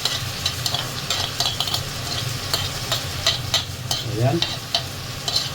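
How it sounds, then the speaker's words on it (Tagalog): Marinated goat meat sizzles and crackles steadily in a hot pan for kilawin, with scraping stirs and a brief spoken word over the frying. "So ilalagay na natin yung natimplang kambing natin."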